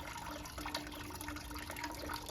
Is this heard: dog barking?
no